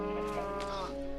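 A sheep in Minecraft Xbox 360 Edition lets out one short, steady, wavering bleat, loud and close, heard on its own.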